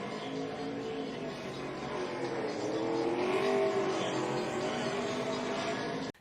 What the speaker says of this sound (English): Do some burnouts here.